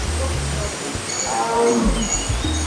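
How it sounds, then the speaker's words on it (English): A Sumatran tiger at a zoo's Tiger Trail exhibit lets out low, rumbling growls and chuffs over a steady noisy background, with a person's voice faintly mixed in. "Heard a tiger vocalizing right now."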